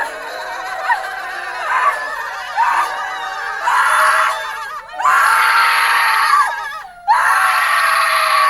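A group in a yelling choir lets out long shouted yells together in several sustained waves. Each one is loud and raw, with short gaps and a sharp cut-off between them.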